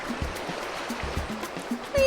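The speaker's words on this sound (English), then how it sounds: "You can see there's lots of water that splashes, which I really like." Water splashing in the Roblox game Theme Park Tycoon 2, a soft continuous watery rush like a stream, with quiet low thumps recurring under it and a brief louder swell at the end.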